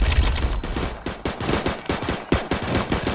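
Golden Minigunner towers fire in Roblox Tower Defense Simulator, sustaining loud, rapid, continuous gunfire with a steady stuttering rhythm and sharper accented bursts throughout.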